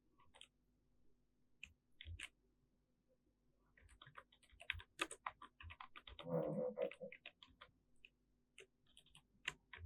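Computer keyboard typing while a Python program is written: irregular bursts of soft, close key clicks with short pauses, a denser flurry in the middle, quiet overall with a faint steady hum beneath.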